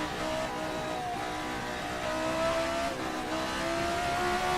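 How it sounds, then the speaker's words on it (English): A 1979-style Formula race car engine in the RSS Formula 79 racing game screams steadily at high revs down a straight, its sustained harmonic whine rising slightly in pitch with no talk over it. "coming down the straight, listening to that engine sing"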